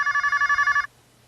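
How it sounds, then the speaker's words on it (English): A telephone gives one short burst of ringing, a rapid electronic trill of about nine pulses in under a second, then stops abruptly. "I think I just heard the phone ring."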